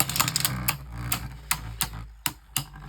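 Beyblade spinning tops, including a Hasbro Black Valtryek V2 and Katana Valtryek, launched into a plastic stadium, with a string of sharp clicks and clacks at uneven intervals, close and fairly quiet.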